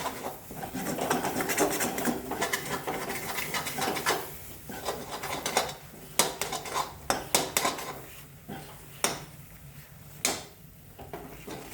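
A spoon scrapes and clinks around a pan of banana halwa sprinkled with cardamom powder, steady rubbing strokes giving way to sharper, separate metallic knocks toward the end, close and clear.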